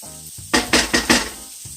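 Vegetables for flounder-stuffed cabbage rolls hit a hot pan in four quick, loud sizzling bursts, close and unvoiced, then the sizzle drops back to quiet.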